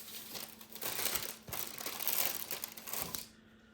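Grilled Italian buns torn apart by hand, producing close, dry crackling and crinkling crust sounds in several bursts that fade out at the end, with no talk.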